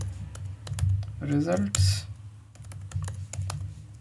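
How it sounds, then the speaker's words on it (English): Rapid clicks of typing on a computer keyboard come in bursts during coding, light and close, partly under someone speaking briefly. "My typing speed is pretty bad today."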